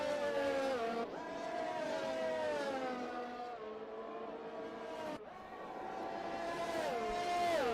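McLaren Formula 1 cars in the F1 2021 racing game at the Brazilian Grand Prix, engines screaming continuously with rising and falling pitch through gear changes, loud and close, with a sharp upshift break and renewed acceleration.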